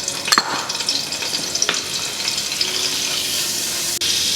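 Butter melting and sizzling in a hot pan for a chicken pasta bake, a steady hiss and crackle with a few sharp pops near the start and a clink near the end, no voices.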